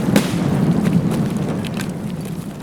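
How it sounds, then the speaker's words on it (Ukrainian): A flashbang grenade goes off in a first-person shooter game, a muffled burst near the start that leaves a dense, steady roar with a low rumble for the rest of the moment. "И флешка туда пошла."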